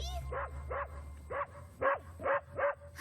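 Cartoon dog barking in a My Little Pony episode, a run of about six short, close yips and barks in an uneven rhythm.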